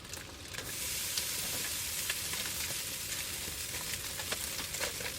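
Rice is warmed and stirred in a pan over a switched-off camper van stove burner, giving a steady soft sizzle with scattered light scrapes and clicks from the utensil, fairly quiet and continuous.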